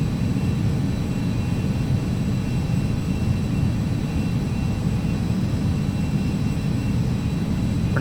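Carenado Citation CJ2 business jet cruising over mountains near Reno in the Prepar3D flight simulator, a steady, broad engine roar and rushing noise that holds constant throughout with no voices.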